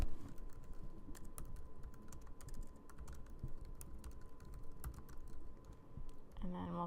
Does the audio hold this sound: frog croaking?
no